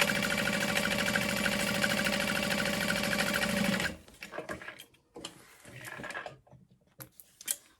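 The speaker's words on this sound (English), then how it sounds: "then I'm going to top stitch along the outer edge as well" Sewing machine running steadily while topstitching along the outer edge of a Divina tote bag, a loud continuous whir for about four seconds that then stops, leaving quieter handling clicks and rustles.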